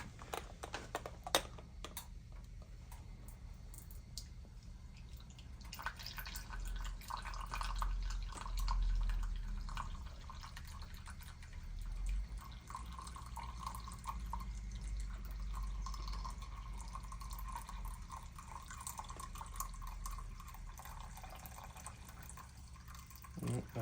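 Home-roasted Ethiopian coffee trickles and splashes into a latte mug in a steady pour lasting several seconds, close by, with faint clicks and light handling noise around it.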